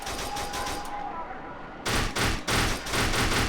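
Rapid Uzi bursts fire in the shooter game Kane and Lynch 2, close and loud, starting with steady rattling, pausing briefly, then resuming in several choppy bursts.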